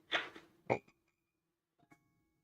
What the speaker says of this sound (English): we shake, and then the frog has made his sound